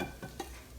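Sausage browning in a hot Instant Pot, a faint soft sizzle with a couple of light stirring scrapes, close and quiet, with no talking.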